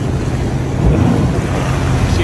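A boat engine runs in forward gear against a strong current near the Destin East Pass, a steady low rumble mixed with wind and water wash, close and continuous throughout.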